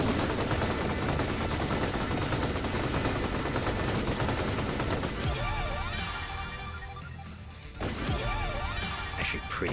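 Rapid, dense gunfire from the retro shooter crossover Vampire Survivors: Operation Guns, with the evolved shotgun blasting continuously alongside crashing game effects and music, loud and unbroken throughout with a brief dip near the end.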